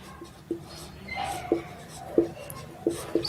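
Handwriting strokes scratch and tap in a steady series of short marks over a low background hum, during an electrician class on bulbs wired in series.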